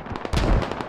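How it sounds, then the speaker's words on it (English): Mortar fire pounding a position in the tactical shooter Squad, a heavy booming impact followed by a rattle of smaller cracks and pops, loud and close, with no speech. "Mumblerines getting completely devastated by mortars right now"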